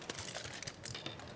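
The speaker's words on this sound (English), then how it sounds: "So I'm just using regular standard household tin foil. And I'm going to crumple it up." Regular household tin foil crumpled by hand, a faint dry crinkling and crackling that runs steadily for a moment, quiet and close, with no talk.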